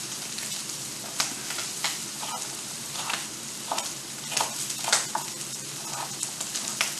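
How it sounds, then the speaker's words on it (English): Butter melts and sizzles in a hot pan, a steady crackling fry with bursts of louder spitting and occasional stirring scrapes. "Okay, butter's melting."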